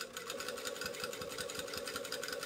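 A sewing machine stitches convex to concave curves together, a fast, even mechanical rattle running steadily throughout at close range.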